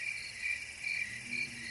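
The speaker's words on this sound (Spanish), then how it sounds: "un zumbido constante nos acompañaba, como si los insectos no dejaran de hablarnos al oído" Constant shrill buzzing of crickets and insects in the mountain scrub, a steady high drone pulsing softly every half second, fairly near and alone with no voices.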